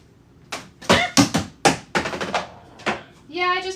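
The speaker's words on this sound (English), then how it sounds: "I just knocked a slime over" A slime container tips over during a slime-making session, giving several quick knocks and thumps close by, followed by a brief tonal squeak at the end.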